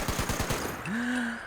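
A Gatling gun fires in the game Fallout 76, a quick burst of rapid rhythmic shots for about half a second, loud and close, followed by a rising electronic whine.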